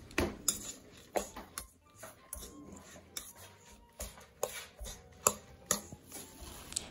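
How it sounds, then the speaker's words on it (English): Flour and eggs mixed for potato pancake batter, a run of irregular clinks and knocks from a utensil against a bowl, with soft scraping between the hits. "Then mix in 2 extra large eggs."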